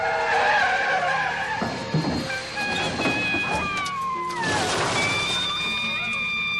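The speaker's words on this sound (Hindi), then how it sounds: "दोनों गाड़ियों की जोरदार टक्कर हो गई।" Tires squeal and skid loudly as a truck and a car slide toward a crash, with long screeching tones rising and falling throughout and a brief thud partway through.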